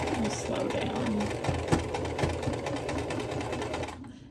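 A home sewing machine runs steadily while stitching a thick seam on a quilt block, a close, continuous buzzing whir that slows and fades near the end.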